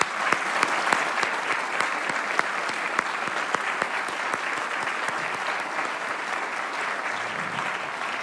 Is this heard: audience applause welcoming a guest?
yes